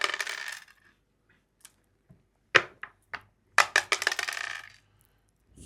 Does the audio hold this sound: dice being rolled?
yes